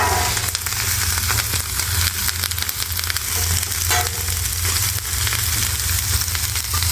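A whole head of cabbage and half a large onion sizzle loudly on a flat-top griddle for cabbage noodles, a dense, steady frying hiss with faint stirring scrapes and no talk.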